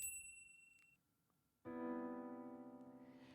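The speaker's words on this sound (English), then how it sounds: "I open the door as a bell on the other side welcomes me in with its gentle sound." A gentle shop door bell jingles as a door opens, a faint high chime followed by a louder sustained ringing that slowly decays.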